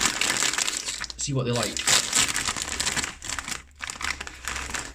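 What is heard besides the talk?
opening a bag of Guinness Burts thick cut potato crisps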